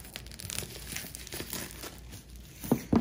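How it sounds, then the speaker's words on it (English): Plastic shrink wrap on a Twilight Imperium Prophecy of Kings expansion box is cut and pulled away, giving close crinkling and crackling that ends in two sharp tearing rips. "let me go ahead and cut this plastic off"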